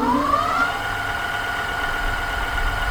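A motorized bike runs at high speed on its own, a steady whining motor tone that rises briefly and then holds, continuous and fairly close with no talk.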